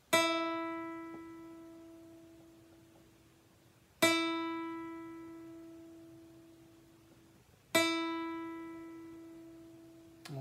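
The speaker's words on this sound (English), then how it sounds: "And then we finally have the high E string should sound like this." Three separate plucks of a guitar's high E string for tuning, each bright note ringing alone and fading steadily before the next, evenly spaced about four seconds apart.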